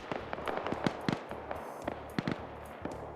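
Scattered gunshots in the Arma military game, a string of sharp cracks and short bursts at mid distance, irregularly spaced over a steady low background rumble.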